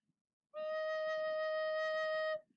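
A recorder holds one steady low E note for about two seconds, clear and soft, with breath noise around it.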